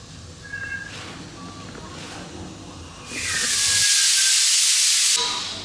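A pressure cooker on the stove cooking soup lets out a loud, sustained steam whistle that hisses for a couple of seconds after quieter kitchen background, close by.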